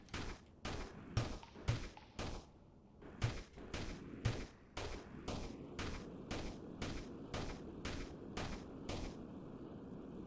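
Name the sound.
gunfire in the video game Sandustry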